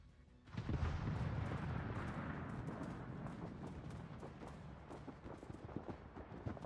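A Montana battleship fires its main guns in World of Warships, a heavy booming salvo that swells suddenly and rolls on as a long low rumble with scattered crackles fading slowly.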